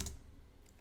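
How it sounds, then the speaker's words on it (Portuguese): Fast typing on a computer keyboard, a few quiet clicks close by, faint and alone with no talking. "Agora eu vou digitar para vocês irem pegando bem aqui"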